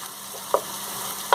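Beef for a stroganoff-style dish sizzles and fries in a pan, a steady close crackle with two short sharp clatters of stirring, one midway and one at the end, and no talking.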